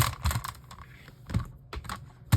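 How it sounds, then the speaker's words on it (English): A paper trimmer slices through a sheet during a craft project, a series of close, crisp clicks and scraping cuts with short pauses between strokes. "I'm just going to take my trimmer and we're going to cut this in half"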